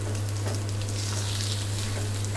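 Rice sizzles steadily in a pan for chicken pulao, a constant, close frying crackle with a low steady hum underneath and no talking.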